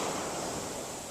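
Broad, steady wash of ocean waves on a shore or in open water, a continuous hiss with no distinct breaks, heard alone for about a second.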